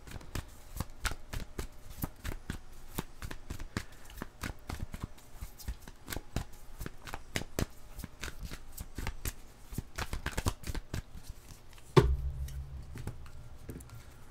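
Tarot cards being shuffled in a long run of quick, crisp riffling flicks, close and clear, followed near the end by a duller thump and soft handling sounds.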